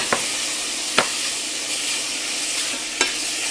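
Meat stir-fries in a hot pan for a Korean home-cooked rice dish, giving a steady close sizzling hiss broken by a few sharp clacks of a utensil against the pan.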